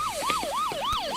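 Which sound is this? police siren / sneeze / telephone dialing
police siren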